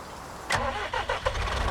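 A small tractor's engine starts in Farming Simulator 19, with a sharp starter catch and then a few chugging pulses settling into a steady idle, close and fairly loud.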